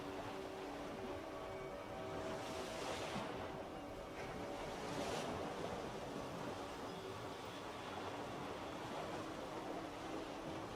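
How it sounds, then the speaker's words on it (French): A submarine descends beneath the water in the video game Clair Obscur, heard as a steady, dense underwater rush and murmur with soft swells, continuous and alone without voices. "Et le sous-marin débute sa descente sous les eaux pour rejoindre la mythique cité."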